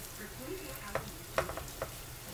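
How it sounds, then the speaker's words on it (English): Cubed acorn squash dropped back into a hot pan with a faint sizzle, a few soft clinks and scrapes of stirring standing out against the quiet frying. "We want to add it back to the pan."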